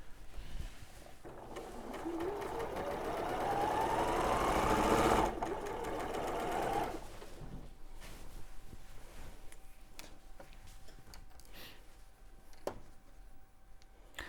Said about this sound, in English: So you're just now sewing all of the little bits together.